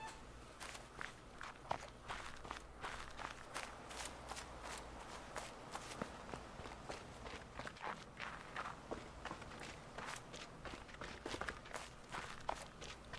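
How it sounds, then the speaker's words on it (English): Footsteps in the video game The Witness, where the sound changes with the surface underfoot, tread in a steady walking rhythm, soft and close, continuing for the whole stretch with no voices. "your footsteps are incredibly distinct based on what you're walking on"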